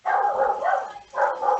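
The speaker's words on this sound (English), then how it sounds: "I got dogs barking like crazy" Dogs bark loudly and excitedly at close range in a quick run of yips and barks, with a brief pause before another burst; no one speaks.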